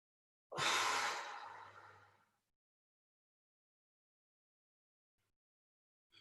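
A single deep breath drawn in during a thoracic, lat and pec minor mobility stretch: a loud, airy inhale lasting nearly two seconds that fades away, followed by silence.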